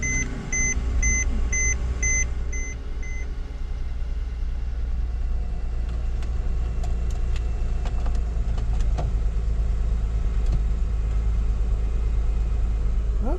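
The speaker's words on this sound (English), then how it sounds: "So this one you actually put the key in it. Starting right up. Sounds good." A Catfish-era Camaro started with a key, with chimes beeping briefly at first, then a loud steady low engine idle rumbling continuously, with scattered small clicks and knocks over it.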